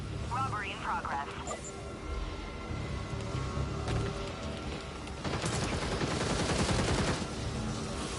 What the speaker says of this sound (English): someone's shooting the roof